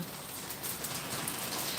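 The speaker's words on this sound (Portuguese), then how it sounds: "Olha essa chuva." Rain falls outdoors on a street, a steady broadband patter of drops on surfaces, fairly soft and continuous, with no voices.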